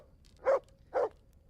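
A dog gives two short barks, close by, about half a second apart, against a quiet background.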